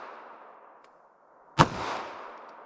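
A single sharp pistol shot of Sellier and Bellot FMJ .380 or .32 ACP ammunition cracks loud and close over a chronograph, standing out against a low background hum and followed by a short decaying echo.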